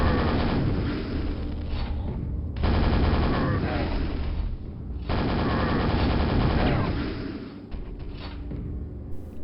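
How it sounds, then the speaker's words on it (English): Super nail gun firing continuously in Quake, a dense rapid mechanical rattle of loud bursts lasting a few seconds each, with brief pauses between volleys and game sounds underneath. "I do have a super nail gun."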